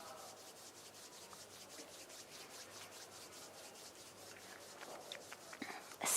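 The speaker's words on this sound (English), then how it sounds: "bring the palms of your hands together at chest level and rub them gently against each other" Palms of two hands rub gently together at chest level during a guided practice, a steady soft swishing friction that runs on without pause, close and alone.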